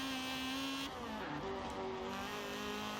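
A high-revving Honda K20 engine in an Integra Type R track build in Forza Horizon 4 screams steadily. The pitch drops briefly during a gear change and then climbs again, close and loud, with no talking over it.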